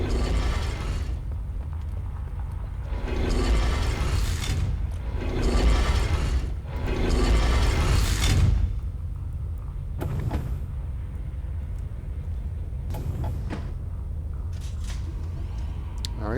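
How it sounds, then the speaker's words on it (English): Elevator machinery in the video game Uru, in the Gahreesen building, drones loudly with steady rumbling mechanical noise that swells in several long pulses before settling into a continuous lower hum. "that's the elevator down, so that doesn't help us"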